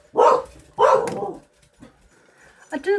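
Two sharp, loud barks from dogs nearby, followed by fainter yips and whines as the outburst trails off.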